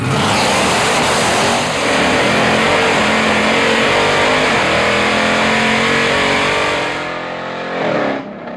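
Supercharged Hellcat-engined 1968 Dodge Charger at full throttle down a drag strip, a loud, continuous roaring engine note climbing through rapid gear changes for about seven seconds before abruptly dropping off.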